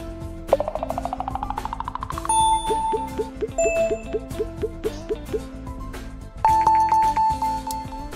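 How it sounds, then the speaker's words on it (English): Bright ding chimes of a notification in Game Dev Tycoon ring out over cheerful plinking game music, with a rising arpeggio and several sustained tones, clear and unaccompanied by speech. "A new notification."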